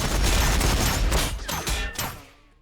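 Loud, dense volley of gunfire crashing together in a Warhammer 40K tabletop-style video game battle between Orks and Necrons, sustained bursts with booming low end that trail off into a fading tail.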